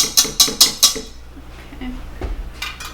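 A mixing bowl is lifted off a stand mixer after whipping egg whites, giving four quick, sharp metallic clinks in a row, followed by quieter rattles and a soft thump.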